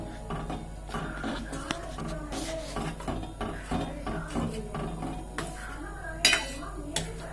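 A spoon scraping and clinking in a pan while Kurkure Maggi noodles are stirred on full gas, with repeated rhythmic metallic rasps and knocks that continue steadily and end in a couple of louder clanks.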